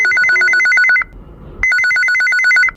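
A telephone rings in for a call-in radio programme, two loud, close bursts of rapid trilling electronic ring separated by a brief pause, with no talk.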